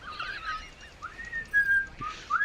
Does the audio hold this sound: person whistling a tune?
yes